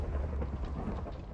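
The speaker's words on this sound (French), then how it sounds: "Il me fait tomber un éclair sur la gueule." A Minecraft lightning strike with thunder, heard as a steady low rumbling roar that holds throughout, close and fairly loud, with no talking.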